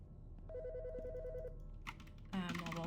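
Telephone ringing in the video game Autopsy Simulator: a steady warbling electronic ring repeats for about a second, followed by clattering game sounds and a brief musical sting, with room tone underneath.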